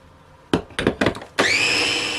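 A multi-chopper whirs as it blends skordalia garlic dip: a few short bursts of pulsing, then a steady high whine that runs to the end, close and loud.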